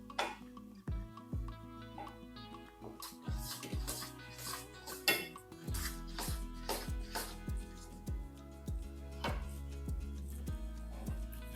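A spoon stirs flour, added a little at a time, into a pot for adhirasam dough, giving repeated close clinks and scrapes against the metal over a steady tonal background.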